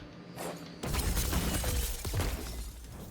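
Shatter dive ability in Destiny 2: a sudden loud crashing burst with a glassy, mechanical shattering texture that sustains for a couple of seconds, with no talk over it.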